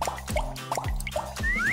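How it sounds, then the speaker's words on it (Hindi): A leaking tap in Minecraft drips water in a game setting: repeated cartoonish plops and drips fall in a steady rhythm, fairly close and clear, with no speech. "मेरे टैप से पानी बह रहा है,"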